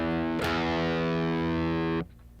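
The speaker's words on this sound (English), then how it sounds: "you'll only hear the note you want, which is the open E" A distorted rock electric guitar rings out a single open E note with the other strings muted, one heavy sustained pick attack held for about a second and a half before being cut off.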